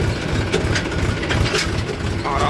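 A tractor engine chugs in second gear as it slows and turns in a farm field, loud and close with a steady low rhythmic throb and some mechanical rattling, no voices.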